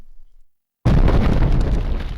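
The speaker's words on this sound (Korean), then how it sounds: "공기를 찢는 총성과 폭발음" A heavy explosion blast from a Sanabi video game cutscene erupts after near silence, a sudden loud broadband boom that rolls on with sustained rumbling debris and crackle, with no gunfire distinctly separable.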